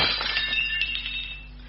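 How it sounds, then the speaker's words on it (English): Several dishes, including a fine Royal Doulton vegetable dish, crash to the floor and shatter, giving a loud, bright burst of breaking glass and china that rings out and fades over under two seconds. "Zetterholm pulled at the tube, sending several dishes crashing to the floor."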